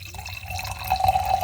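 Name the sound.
wine being poured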